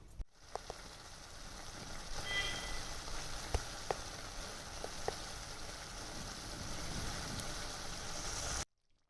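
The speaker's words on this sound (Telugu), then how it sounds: "మూత పెట్టేసి ఇది కుక్ అయ్యేదాకా, అంటే కొంచెం థిక్ గ్రేవీ వచ్చేదాకా బాయిల్ చేసుకుందాం" Cauliflower gravy curry, Andhra-style gobi, simmering in a covered pan: a low, steady bubbling hiss with occasional faint pops and ticks, close and continuous until it cuts off abruptly, with no talking.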